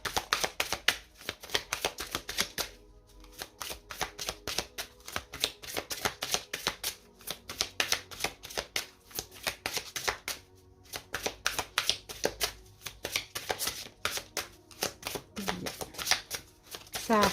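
Oracle cards from the Oracle des dragons protecteurs deck being shuffled by hand, a steady run of quick papery riffles and flicks close up, with a few brief pauses, no talking.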